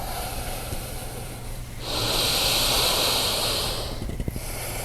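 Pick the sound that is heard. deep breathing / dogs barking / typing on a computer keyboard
deep breathing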